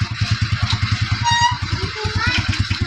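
Suzuki Shogun motorcycle on a test drive, its small engine thumping in a steady rapid idle pulse up close, loud and continuous with a brief dip, a voice talking over it.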